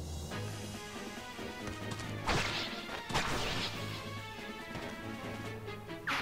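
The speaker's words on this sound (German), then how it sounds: "Und das mache ich platt mit dem Königsschwert." Sword strikes with the King's Sword in Fire Emblem: Path of Radiance land as a couple of sharp crashing hits with whooshes, set over steady game music.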